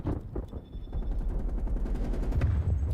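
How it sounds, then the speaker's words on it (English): Gunfire from a hand cannon in a video game, crackling in dense, continuous bursts with a low rumbling body and no pauses between shots. "Alright, now I have my sniper of choice, the hand cannon."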